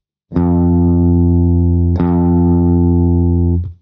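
A single guitar note played on the first fret rings out loud and sustained, then is plucked again and held, fading briefly at the end.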